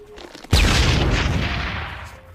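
A bomb explosion in the Family Guy cartoon erupts suddenly as one loud, close blast, then a broad roar and rumble that fades slowly over the next two seconds.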